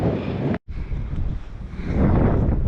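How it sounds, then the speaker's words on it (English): Strong wintry wind on an exposed coastal path near a lighthouse roars across the microphone in loud, continuous buffeting gusts, briefly cutting out for a moment before building again. "A bit more wintry in that wind."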